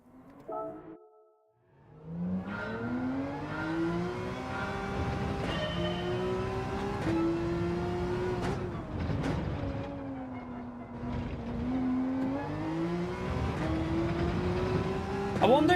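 Porsche race car lapping on hard tyres in Gran Turismo 7, its engine rising and falling through gear changes with whining pitch sweeps, loud and continuous after a brief quiet start.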